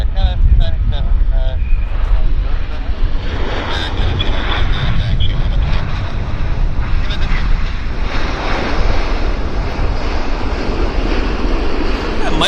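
An airliner landing at Vancouver airport, a loud sustained roar of jet engine and rushing air that stays steady throughout, with talk over it.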